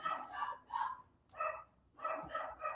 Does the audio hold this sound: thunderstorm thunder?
no